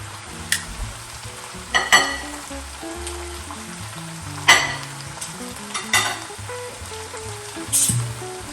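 A pot roast shoulder sizzles in a pot with vegetables and drippings, a steady close frying hiss punctuated by several sharp clinks and scrapes of a utensil against the pot, no talking.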